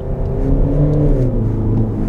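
A Peugeot 3008's 1.5-litre four-cylinder diesel engine drones steadily from inside the cabin, a low, even hum with a faint rising and falling tone and no talk over it.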